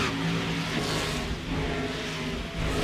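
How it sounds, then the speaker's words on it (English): Stock cars in the iRacing NASCAR game at Dover, a dense, continuous engine roar with steady buzzing harmonics as the pack runs close together through the corner. "See these cars as they go in the corner."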